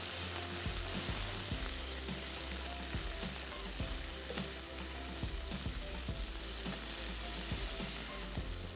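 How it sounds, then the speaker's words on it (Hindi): Tomato and spices sizzle steadily as they fry in a hot pan in a home kitchen, with a continuous close crackle and occasional stirring scrapes, no voices. "खूब अच्छी तरीके से आपने फ्राई करना है।"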